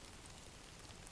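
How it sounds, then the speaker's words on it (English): Rain falling, a dense, even hiss of drops with no breaks or other sounds, steady and moderately soft throughout. "Outside, the rain had begun to fall."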